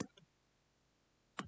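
A computer mouse clicked twice in quick succession, then a single click after a short pause, faint and close in a quiet room.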